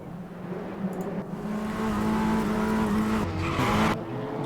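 Race cars at Stowe Circuit accelerate off the grid at a race start, a loud blend of engines rising in pitch with tyre squeal and a sharp burst of noise near the end.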